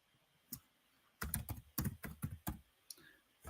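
Typing on a computer keyboard, a quick run of close, crisp key clicks in an uneven rhythm, with a few isolated taps before and after the main burst.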